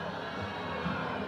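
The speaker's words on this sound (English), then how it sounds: "You hear the crowd reacting to Merrill Giles' score." A crowd at a college gymnastics meet murmurs and cheers in a soft, distant wash of voices, briefly reacting to a score.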